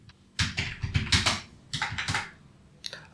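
Typing on a computer keyboard into a search box: short clusters of crisp, close key taps in quick bursts, separated by brief pauses, with a few isolated presses at the end.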